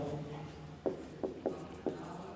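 Marker or chalk strokes on a board in a Class 10 maths lesson on quadratic equations: four short scraping strokes, close and moderately loud, over a quiet room hum.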